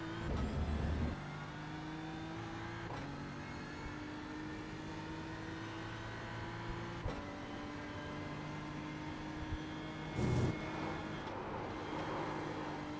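BMW M4 GT3 race car in iRacing at Spa-Francorchamps, engine droning loud and steady with sharp downshift blips as it drops to second gear, then pulling hard out of the corner.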